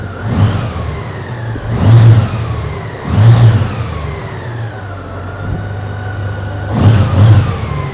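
Honda Goldwing 1800cc motorcycle on its stock exhaust, revved close up in four distinct throttle blips, each a quick swelling roar falling back to a steady idle between them.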